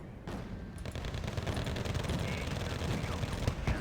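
Heavy automatic gunfire and explosions from the Wargame: Red Dragon battlefield, a dense, continuous barrage of rapid shots pouring onto a command tank, loud and sustained with crackling impacts throughout.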